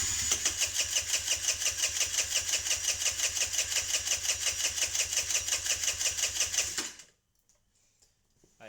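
A Kawasaki KFX50 ATV engine runs choked, with a steady rapid mechanical chatter lasting about seven seconds before cutting out abruptly into near silence.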